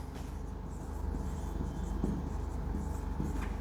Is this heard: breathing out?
no